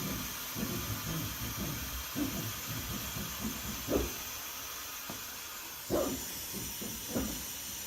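The air suspension on a 1965 C/10 custom truck dumps air as a broad, steady hiss, with a few soft thumps and clunks under it and no talking.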